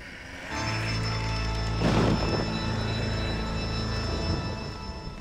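Stormy rumble in the video game Red Dead Redemption: Undead Nightmare, a loud, steady low roar of weather with a brief swelling burst near the middle, sustained throughout with no voices.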